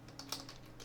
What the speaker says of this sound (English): when I'm typing hours here